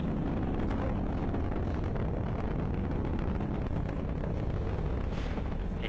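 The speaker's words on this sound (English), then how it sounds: "you saw Falcon 9 lift off in a beautifully clear shot there at 4:14 p.m. Eastern" A SpaceX Falcon 9 rocket lifting off carries a satellite, a continuous, heavy roaring rumble with crackling texture that stays loud and steady throughout, with no voices.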